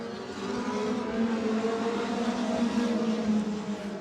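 Race cars roar off turn 4 at Twin State Speedway in Claremont, New Hampshire, a dense, steady engine rumble with rising and falling pitch as the pack accelerates, loud and continuous with no voices.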